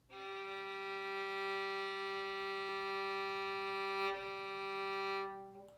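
A single bowed violin note on the open G string, steady and sustained for several seconds with a slight bow change near the end, played alone.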